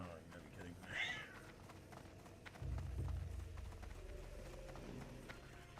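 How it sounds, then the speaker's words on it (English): House cats fighting, with a brief yowl standing out and a scuffle following, faint and set back under steady background noise. "My cats are fighting"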